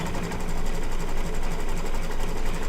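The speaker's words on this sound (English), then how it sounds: "piecing on your embroidery machine" An embroidery machine stitching English paper piecing blocks runs with a steady, rapid mechanical whir and fine regular needle chatter, loud and continuous, with no voices.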